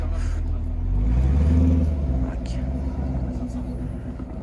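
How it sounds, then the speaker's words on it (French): Cars drive along a street near Paris, a close engine rumble that swells as one vehicle passes and then fades, with a voice speaking briefly. "Il y a quand même pas mal de bagnoles là."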